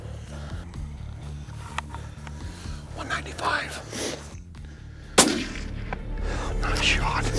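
A sharp, loud gunshot from a Winchester rifle cracks once during a sandhill crane hunt, preceded by hushed whispering and low background rumble.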